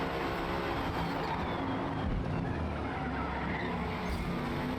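Race car sliding sideways through a corner in Forza Motorsport, with a continuous loud roar of engine and tire skid holding steady throughout, no talking.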